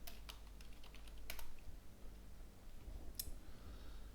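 Bursts of keystrokes on a computer keyboard as a search keyword is typed, close and crisp, with irregular clicks spread across the clip and one sharper tap near the end.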